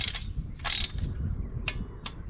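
Ratchet clicking as starter bolts are tightened on a Cadillac Northstar engine, with a few short, sharp bursts of clicks spaced apart over a low background rumble.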